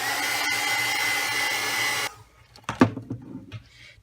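A heat tool blows hard on embossing powder on a craft project, a steady whirring hiss for about two seconds that cuts off abruptly, followed by a few faint clicks and rustles as the tool is set down.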